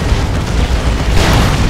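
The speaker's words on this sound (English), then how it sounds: "D-Cannon getting shots on those Assault Marines" Heavy booming cannon blasts from a D-Cannon in the Dawn of War 2 real-time strategy game, a dense continuous battle roar with a brighter burst near the end.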